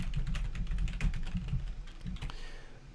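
Steady typing on a computer keyboard as a survey question is entered, a continuous patter of close, light key clicks with no talking.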